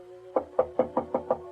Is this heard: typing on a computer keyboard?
no